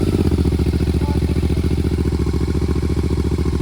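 A silenced GT motorcycle fitted with dB killers cold-starts and settles into a steady, loud, close engine idle with a rapid even thump and faint clatter throughout.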